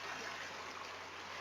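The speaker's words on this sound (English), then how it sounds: "Here in nature, we have this beautiful stream, the purest music around" A babbling mountain stream outdoors, its steady broadband rush and trickle continuous and close throughout, with no voices.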